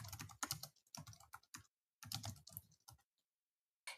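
Bursts of computer keyboard typing while entering notes into a client case management program, quick clustered clicks separated by short pauses, close and clear with no talk.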